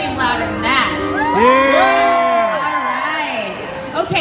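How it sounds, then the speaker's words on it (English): A convention panel audience screams and cheers in a loud sustained roar of high-pitched shrieks and whoops, building then tapering, with overlapping voices. "Oh, you can scream louder than that."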